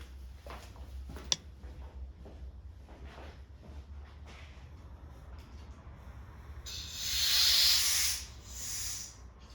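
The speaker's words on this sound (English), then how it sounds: "I apply a little bit of air to that pin, and you can see now it slid right out" Compressed air hisses in a loud, steady burst at a VTEC lock pin in the engine of a 1000HP rear-wheel-drive Honda CRX, after a few quiet knocks and clicks.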